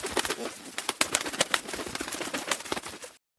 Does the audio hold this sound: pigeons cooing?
yes